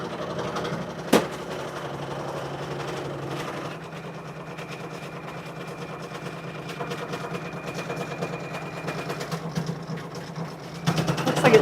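A Kimberbell embroidery sewing machine stitches a bean stitch for a mini quilt, its steady mechanical whir and rapid needle rhythm running continuously and fairly close, with a sharp knock near the start and a louder burst at the end.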